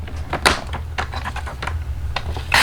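Paper being cut for a 5 x 7 pop-up Christmas card, with a quick series of crisp slicing and tapping clicks over a low steady hum, close and fairly loud, ending in a brighter scrape.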